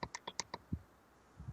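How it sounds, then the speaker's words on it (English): A rapid run of about six sharp, close plastic clicks from a computer mouse, followed by a softer thud and a faint trailing click. "stop clicking, please."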